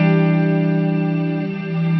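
Guitar played through a Fantome reverb pedal with its freeze effect, a dense sustained wash of held chords hanging steadily at high level, swelling slightly near the end, with no talking over it.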